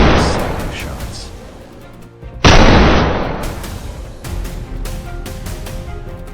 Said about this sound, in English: We tried to close in and fired consecutive shots.